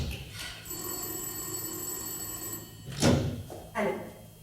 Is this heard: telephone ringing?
yes